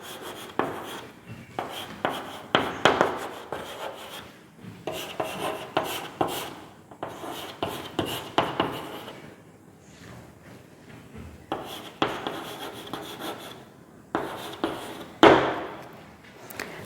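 A sentence is written on a board in steady bursts of scratchy rubbing strokes, close and clear, separated by short pauses, with no talking.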